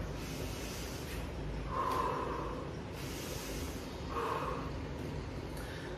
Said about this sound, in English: Again, always deeply inhale and deeply exhale.